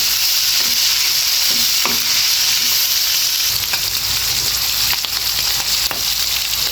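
Chop suey with meat bubbling and sizzling in a pan, a loud, steady frying hiss with occasional soft clinks, no voices.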